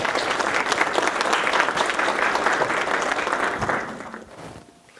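An audience at a Google talk applauds to welcome the presenter, a dense, loud wash of clapping that holds steady and then tapers off into quiet near the end.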